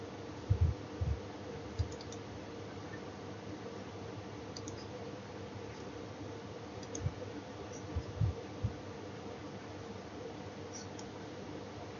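A computer mouse clicks a handful of times, the sharp taps sparse, quiet and irregularly spaced over a steady low room hum.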